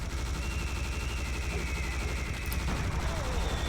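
Rapid continuous gunfire in the Serious Sam: The First Encounter co-op game while fighting harpies, a dense unbroken barrage throughout, loud and steady with faint screeches over it.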